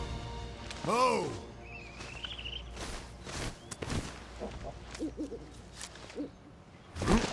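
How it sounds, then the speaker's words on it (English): A pet owl in the video game Monster Hunter Rise gives a soft hoot, followed by game sound effects, light footsteps and a few brief chirps, with a voice speaking at points. "You also do get a pet owl"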